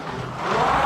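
Carrera digital slot cars, including a Ferrari, whine around the track in a continuous rising electric buzz that swells louder toward the end, with no talking.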